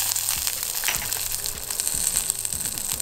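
Red chilies, chana dal and sliced garlic are roasted in a hot pan, giving a steady, close sizzle with scattered crackles and the scrape of stirring. No one speaks.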